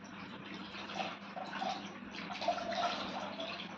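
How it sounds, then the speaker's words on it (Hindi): Warm water sloshes and trickles softly while being used for a child's body compress, a close, gentle splashing with small drips and no talking. "तो ये मैं गर्म पानी से इनकी बॉडी की सिकाई कर रही हूँ"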